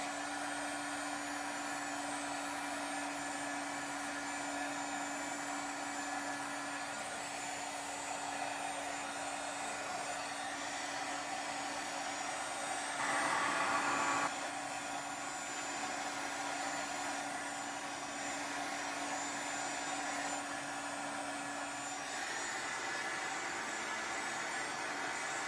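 A hair dryer blows steadily and close by for the full stretch, drying shimmer spray on craft paper during a Gelli plate session, its whirring hum continuous with a brief louder surge midway.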